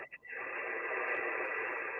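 Amateur radio receiver output plays a continuous band-limited hiss of received signal after a couple of brief clicks or chirps at the start, steady and moderately loud.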